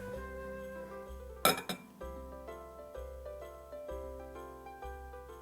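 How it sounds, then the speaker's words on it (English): Tom & Jerry batter ladled into a hot glass: a sharp clink of glass and utensil, then a soft pour, over a steady background music bed with no talking. "we're just gonna ladle it right into our hot glass"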